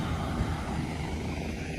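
Helicopters fly overhead in a disaster area, a continuous loud rotor and engine roar that fills the scene steadily, with no talking.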